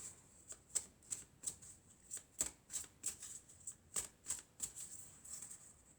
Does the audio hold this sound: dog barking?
no